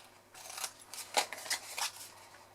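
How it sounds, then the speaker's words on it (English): Scissors snip wedges into a scored and burnished card box lid, giving several sharp, close cuts in an irregular run of about five crisp snips, with no talking. "then we're going to cut the wedges"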